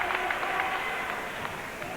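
Crowd at a 1999 Regina vs Manitoba basketball playoff game, a steady roar of many voices with scattered claps and whistles, loud and continuous throughout.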